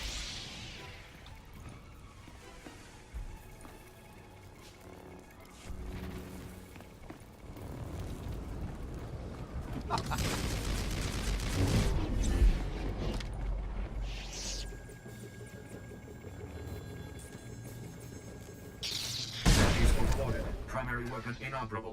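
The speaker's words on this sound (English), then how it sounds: "That's the battle station self-destructing." A Star Wars: The Old Republic battle station self-destructs with rumbling, booming explosions that swell in the middle and flare again near the end, layered over game music and effects.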